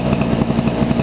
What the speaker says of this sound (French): le moteur tourne